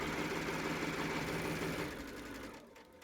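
A sewing machine back stitches a pillowcase seam with a fast, close mechanical whir that runs steadily, then slows and fades toward the end, with no one talking.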